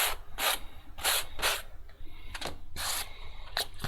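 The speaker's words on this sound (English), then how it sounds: "take this sandpaper and kind of work a little V into here, and since this is across the grain, it'll help straighten it up a little bit" Sandpaper rubbed by hand across the grain of a small terrain piece, working a V-shaped notch: quiet, close rasping strokes in a quick irregular rhythm, about eight short scrubs with brief pauses between.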